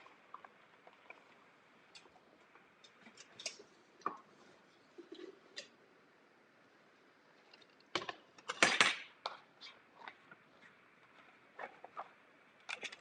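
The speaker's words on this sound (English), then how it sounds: "And we're going to open up the lid. Get this lid out of the way." An Instant Pot pressure cooker lid is lifted off and set aside with a short burst of close metallic clanks and rattles, then a few lighter taps and knocks.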